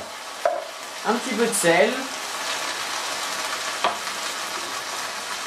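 Tomato pulp is added to softened, translucent onions in a pan, making a steady, moderate sizzle with brief stirring clatters while someone speaks briefly in French.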